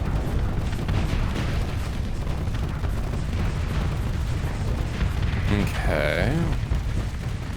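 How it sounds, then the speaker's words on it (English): Continuous missile launches and explosions in a space battle video game, a loud, thick barrage of booms and blasts rumbling nonstop, with a person speaking briefly over the din. "with my built-in missiles as well, I add to the cacophony of missiles going on"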